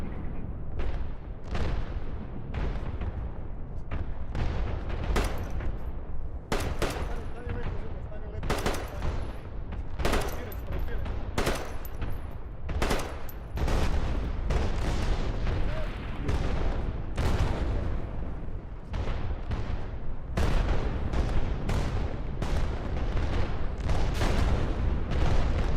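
Dense gunfire in Arma 3 during a Battle of Kosare scenario, rapid sharp cracks and bursts of automatic fire layered over a rumbling backdrop, continuous and loud throughout.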